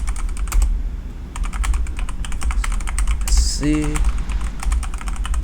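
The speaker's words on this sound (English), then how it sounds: "Just type in the command again to turn it off" Quick clattering keystrokes on a computer keyboard entering a cheat command for a strategy game, steady fast typing with a short pause, under a voice speaking briefly.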